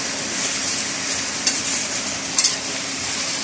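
Pork adobo sa asin fries and pops in its own rendered fat, giving a steady close sizzle broken by two sharp crackling pops.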